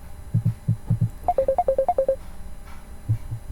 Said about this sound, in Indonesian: Jadi maaf bentar ada telepon.